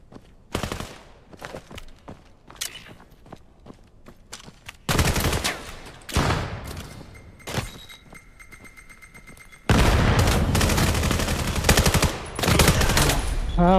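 Gunfire in a Quest 3 VR shooter game, heard as loud bursts of automatic fire and single shots that come in stretches, with sustained rapid fusillades toward the end and a voice faintly underneath.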